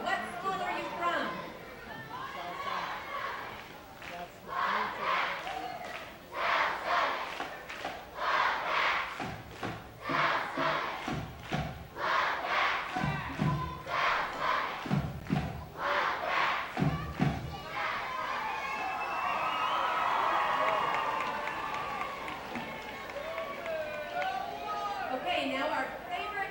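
Crowd at a Utah girls high school basketball game, Gunnison at South Summit, shouting and chanting in loud rhythmic bursts, with an announcer's voice and a steady roar of gym noise.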